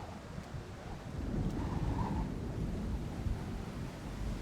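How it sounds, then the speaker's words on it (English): Thunderstorm in the video game Splinter Cell: Chaos Theory at a lighthouse, a low rumbling roar of wind and thunder that swells and holds steady without voices. "Thunderstorms make me nervous."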